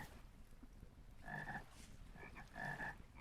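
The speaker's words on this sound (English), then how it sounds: "Oh my god, the frogs, guys." Frogs croak in the video game Vintage Story, with two distinct bursts of croaking calls roughly a second apart against a quiet ambient background.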